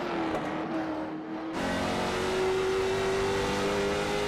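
Race cars lap a short track at Stafford during qualifying for a summer touring series, engine whine rising and holding steady, with a sharper, louder car sweeping closer partway through; no talk over it.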